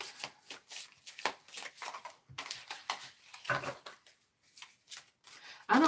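A deck of tarot cards is shuffled by hand in quick, rhythmic riffling bursts with short pauses between them, close and crisp.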